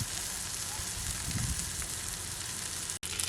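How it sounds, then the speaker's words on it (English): Seasoned catfish sizzling in a frying pan, a steady close crackle and hiss that runs throughout with a faint voice under it, cut off briefly near the end. "Now that we're done seasoning our catfish, now you can put it on the pan."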